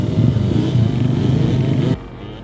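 A motorcycle engine drones steadily and fairly loud at rider training, a constant running note that cuts off abruptly near the end.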